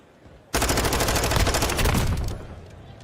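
Rapid automatic gunfire in a Call of Duty League 2023 Championship Weekend match, a dense, loud burst of shots fired through a wall, running steadily for about two seconds before tapering off.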